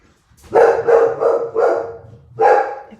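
A dog barks indoors at home, five loud close barks, four in quick rhythm and then one more after a short pause, with no talking.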